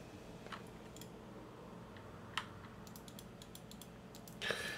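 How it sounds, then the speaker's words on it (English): A computer keyboard being adjusted and tapped at a desk, scattered sharp clicks and light key taps over a steady low room hum, with a brief denser clatter near the end, no talking. "Let me adjust my keyboard real fast."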